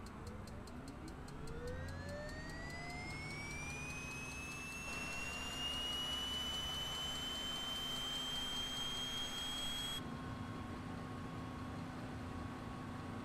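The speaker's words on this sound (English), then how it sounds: "Start our engine up now." A Piper Malibu Meridian P46T turboprop engine in a flight simulator spools up from start: a steadily rising whine climbs over several seconds and settles into a sustained high-pitched hum over a constant low rumble, with no voices.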